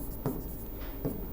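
A pen scratches across paper in a notebook, with soft continuous strokes and a few brief taps, close and quiet against a steady background hiss.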